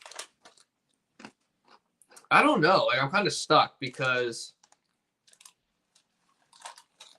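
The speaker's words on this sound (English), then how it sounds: "bro, you crunching" Close, sporadic crunching and chewing of food, short crisp bursts scattered through the clip while someone talks over it.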